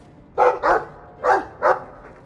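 In Dragon Age II, a dog barks four times in two quick pairs, loud and close, with a short pause between the pairs and no talk over it.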